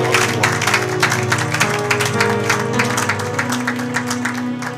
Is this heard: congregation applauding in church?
yes